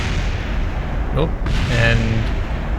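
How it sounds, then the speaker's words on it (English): A spent rocket stage blowing apart during re-entry in Kerbal Space Program, a short muffled boom buried under steady roaring rushing noise, with a voice briefly heard. "you can hear our stage there exploding"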